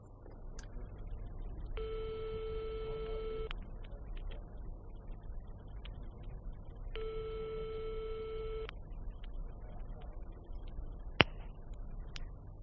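Two long bursts of a telephone tone come over a quiet line with a pause between them, followed by a single sharp click near the end.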